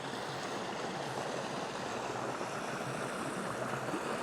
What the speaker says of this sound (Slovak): Je to pekný potôčik v Bonkoce.